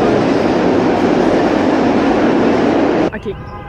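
A New York subway train runs with a loud, steady roar of rumbling wheels that stops abruptly near the end, leaving a few faint clanks and echoes.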